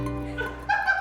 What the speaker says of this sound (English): And George the dog.